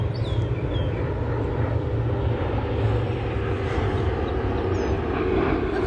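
An airplane passing overhead, a broad steady roar with a faint whine, loud and continuous, with occasional bird chirps outdoors.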